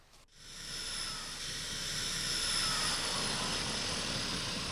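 A skydiving jump plane takes off, its engine and propeller roar rising and holding steady at a loud, continuous level after a brief quieter start, with no voices.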